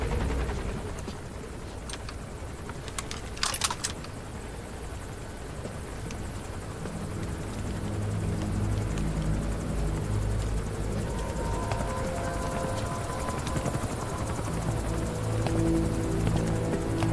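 Skull Face's helicopter in Metal Gear Solid V: The Phantom Pain gives a distant, muffled rotor drone that swells louder and fuller partway through. A few sharp clicks or bursts come early, and no one speaks.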